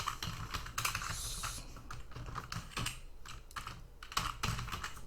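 A computer keyboard is typed on at a steady pace, a run of close, crisp key clicks with short pauses between bursts, and no voices.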